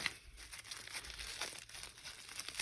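Plastic wrapping on a bulk pack of trading cards crinkles and crunches as it is handled, a soft continuous rustle at close range with a sharper crackle at the end.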